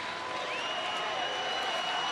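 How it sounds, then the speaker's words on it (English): A baseball crowd at a Minnesota–Texas game cheers for batter Napoli as he steps to the plate, a steady, dense roar of many voices holding at an even level throughout. "our fans have never stopped cheering for him"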